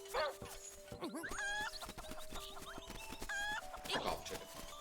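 Chicken clucking in the video game Link's Awakening, a string of short, repeated digital clucks heard close and steady over game music, with no talk.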